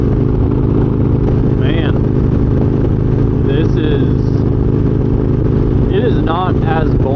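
A motorcycle cruising on an interstate near Nashville, its engine and wind roar forming a loud, steady drone while someone talks over it.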